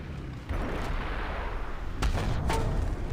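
A T-72/T-64A2 main battle tank in War Thunder Mobile fires its cannon, two heavy booms about a second and a half apart, each followed by a rumbling tail, loud and close with no talk.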